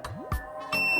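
A multimeter tester gives a series of short electronic beeps as its probes touch the pins of a shorted transistor on a grid tie inverter board, several quick chirps in a row over faint background hum.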